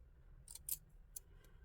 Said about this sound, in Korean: 그러면 여기 안쪽에서부터 해서 카라 요 중간 시접을 잘라 주십니다.